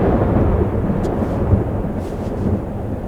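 A storm in the video game Life is Strange: Double Exposure rolls with deep, continuous thunder, a heavy low rumble that swells slightly and holds steady for a few seconds without speech.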